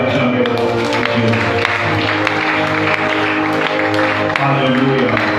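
A church congregation claps and cheers in acclaim of God, a dense, continuous wash of applause and raised voices filling the room from start to finish.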